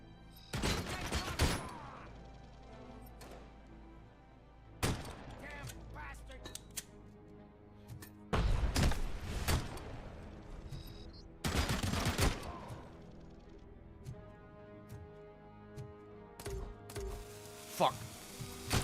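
Sharp, heavy Desert Eagle pistol shots in the game RoboCop: Rogue City, several loud isolated blasts spaced a few seconds apart with ringing tails, amid quieter game noise and a talking voice.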